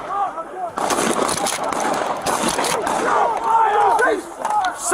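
Police gunfire erupting near a CVS store, a rapid series of sharp cracking shots mixed with shouting voices, loud and close, continuing in chaotic bursts.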